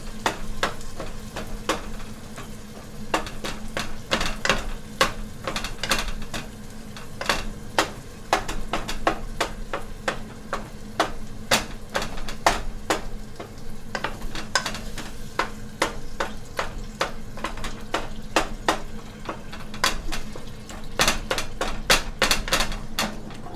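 Whole canned tomatoes are mashed and broken down in a sizzling frying pan, a long run of sharp, irregular utensil taps and clacks against the pan over a steady background sizzle, close and fairly loud, no talking.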